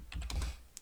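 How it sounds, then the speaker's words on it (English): A burst of quick clicks from a computer keyboard as code is typed, close and soft, about half a dozen keystrokes with no talking. "I'm gonna type it out."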